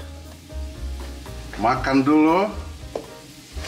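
Red curry paste sizzling in hot oil as it is stir-fried for a laksa, a loud steady frying hiss with spoon stirring, while a voice talks briefly over it.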